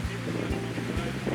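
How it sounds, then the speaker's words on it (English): Strong wind buffets the microphone at a harbor viewpoint in Wellington, a loud, continuous roaring rumble with gusty low thumps throughout and no clear talk. "As you can hear from the sound on this video, the wind might have gotten even worse"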